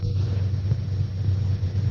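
Low rolling thunder and storm rumble in a 1946 film, The Strange Woman, a sustained dull roar that swells slightly at moments and stays steady throughout, with no talking.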